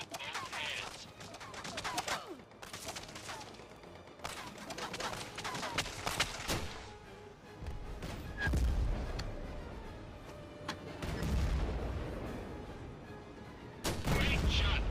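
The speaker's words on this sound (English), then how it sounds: "shoot the scout tank with a Panzerfaust" Panzerfaust shots and blasts hit a scout tank in the Medal of Honor: Above and Beyond video game. Several heavy booms and bursts come amid scattered gunfire, with a deep, loud impact near the end.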